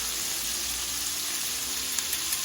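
Scallops frying in a pan of butter give a steady, close sizzle with faint crackle, carrying on through the moment with no voices.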